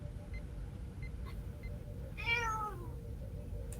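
A pet cat gives a single short meow partway through, over a low rumbling background hum, with faint scattered beeps and no talking.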